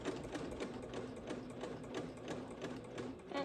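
A sewing machine stitching an Ikea bag, a steady rapid mechanical chatter of needle strokes with a low motor hum, running continuously up close with no speech.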